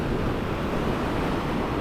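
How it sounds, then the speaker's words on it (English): Surf rolls onto the shore at Bondi Beach as a steady, close roar of churning water, blended with wind rush against the microphone and no distinct break standing out. "here's a nice wave"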